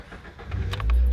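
A Mazda two-seat roadster engine cranks and catches, rising into a steady low idle rumble, heard close and alone with a few faint clicks just before it fires.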